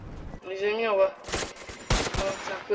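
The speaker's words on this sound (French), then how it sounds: "moi je tire sur mes collègues" Gunfire in the VR game SCP: a voice speaks briefly, then two loud bursts of rapid shots break out close by, each lasting a fraction of a second.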